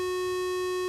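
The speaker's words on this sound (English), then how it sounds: "this one I want to be a sub-oscillator, meaning that I want it to sound an octave lower than the other ones" A synthesizer sub-oscillator tone on F-sharp, built from an audio mixer, sounding an octave low: one steady, pure sustained pitch with bright harmonics, held evenly for under a second.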